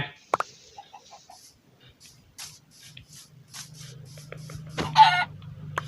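Chickens clucking in Minecraft 1.18, giving a few short, quiet clucks and a louder squawk near the end, set against soft footsteps and block noises from the game.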